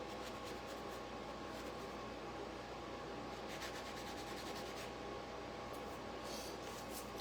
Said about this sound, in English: let's sand this little star